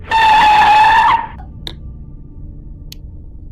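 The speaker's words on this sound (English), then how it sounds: "Outside the spooky castle, a car screeched to a halt" Car tyres screech to a halt in a single loud, sharp squeal lasting about a second, made as a radio play sound effect outside a spooky castle, followed by faint clicks and quiet background noise.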